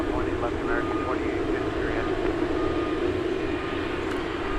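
Aircraft at DFW Airport at night, a steady broadband engine roar holding at a constant level throughout, with faint distant radio chatter underneath.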